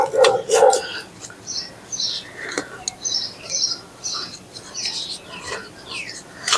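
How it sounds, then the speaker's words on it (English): A neighbour's dog barks a couple of times out near a backyard garden, followed by scattered bird chirps at a moderate distance. "Somebody's dog won't hush."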